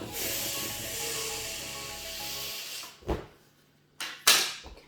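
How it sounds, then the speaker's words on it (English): Air escaping from a party balloon being deflated to size for a birthday balloon tower: a steady loud hiss for about two and a half seconds, then a few short squeaky bursts as the neck is pinched and released. "just let the air out until it fits nicely through this gap"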